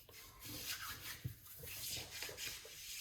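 A hand rubs and massages cream into the skin, giving a steady soft friction sound in short repeated strokes, close and fairly quiet, with no talking.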